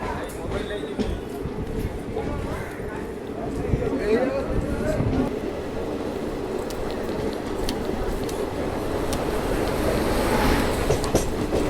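Train rolling along a curving track beside Chilika Lake in Odisha, a steady rumble with rhythmic wheel clatter and brief squeals, heard close by and continuous throughout under a person talking.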